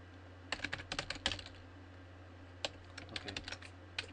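Quick bursts of computer-keyboard typing, close and crisp, with a brief pause in the middle before the clicking resumes, over a faint steady hum.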